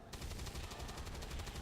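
Gunfire in the video game XCOM 2 comes as a dense, rapid burst that keeps going for under two seconds, fairly faint and alone.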